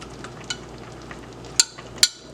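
Shrimp and their liquid are stirred in a hot pan, a soft steady sizzle under scraping utensil strokes, with two sharper clinks of metal against the pan near the end.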